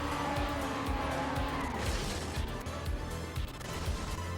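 A TrackMania Nations Forever race car drifting through corners on a NASCAR-style track, its engine droning steadily with repeated low swoops and tire noise under a loud, continuous mix.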